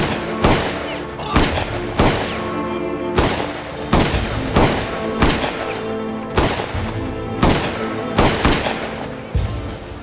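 Rapid bursts of gunfire in a film shootout, sharp repeated shots in an uneven rhythm of roughly a dozen cracks over ten seconds, loud and close against a steady musical score.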